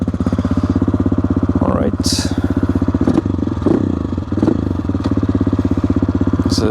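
An AJP PR7 motorcycle engine pulls away in first gear, a steady loud close throb with a rapid pulsing rhythm throughout, and someone speaks briefly over it.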